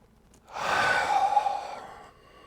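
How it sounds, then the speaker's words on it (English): One deep, slow breath during a beginner yoga session, a single airy breath that swells and fades over about two seconds, close and fairly loud, with no talking. "Breathing in deep"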